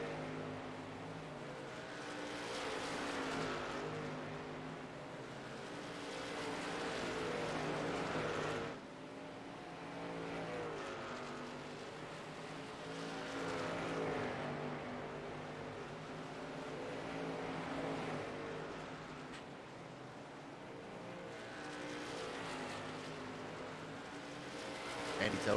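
Race cars battling for position at USA Speedway in a racing game, engines droning and swelling as they pass in repeated waves, carrying on steadily at a low level with a commentator talking over them.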